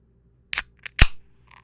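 A Coors Light beer can is cracked open with a quick sharp snap and short hiss, two or three brief close clicks in an otherwise quiet moment.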